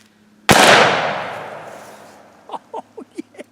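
A single loud, close gunshot from a CVA black powder revolver, a sharp blast with a long decaying roar, followed by a few short distant metallic pings and knocks.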